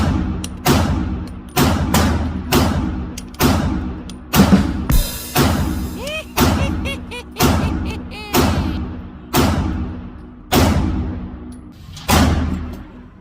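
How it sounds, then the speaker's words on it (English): About a dozen sharp pistol shots from an H&K VP9SK subcompact are fired in fairly even, rapid succession, each a loud close crack followed by a short echoing decay, with a faint metallic ping partway through. "considering that was rapid fire, I would say that's a pretty good job"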